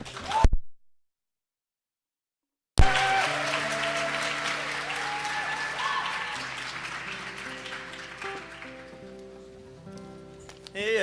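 An audience at a Georgetown-linked justice teach-in gives a speaker a warm welcome: after a brief silence, steady sustained applause fills the room for several seconds, then thins out toward the end.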